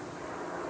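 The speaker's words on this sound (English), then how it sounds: "Plane now going over." An airplane passing overhead outdoors, a steady broad engine rumble and roar that holds constant and fairly faint for the whole moment.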